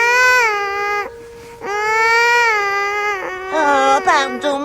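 An infant wails loudly in a film scene, a sustained, strained cry broken by a short pause and then rising again into shakier sobs.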